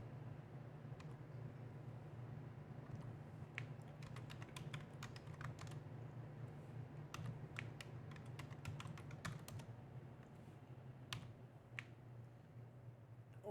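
Fingers type on a computer keyboard in uneven bursts of faint, crisp key clicks over a low steady background hum.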